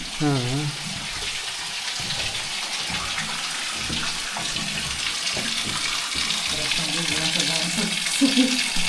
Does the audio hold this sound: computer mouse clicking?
no